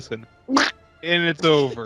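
Short duck quacks, a couple of brief nasal calls, separated by louder stretches of voices talking over them.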